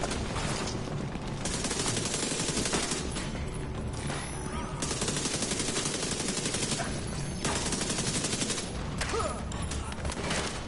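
Heavy gunfire in the video game The Division 2, with dense rapid bursts and automatic fire crackling almost nonstop, loud and close, with brief lulls between volleys.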